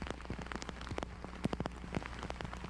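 Steady rain pours across a disc golf course during the final round of a 1999 championship, a dense continuous hiss with scattered sharper drops pattering nearby.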